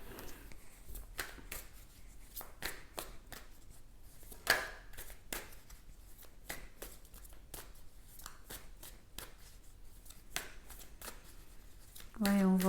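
Handmade oracle cards are shuffled in a steady run of soft, papery riffling snaps, close and fairly quiet, with a brief voice near the end.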